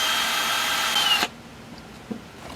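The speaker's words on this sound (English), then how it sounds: "My holes get drilled on a little bit of an angle" A power drill boring an angled hole through a block of wood whirs loud and steady for just over a second, then cuts off abruptly, leaving quiet room noise and a small knock.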